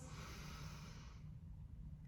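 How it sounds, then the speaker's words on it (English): A slow, quiet breath drawn in through the nose during a calming exercise, a soft airy rush lasting about a second before fading into near silence. "breathing in through the nose"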